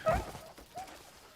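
A dog gives a single short, sharp bark close up at the start, followed by a faint whimpering trail, set in a Crimson Desert game environment.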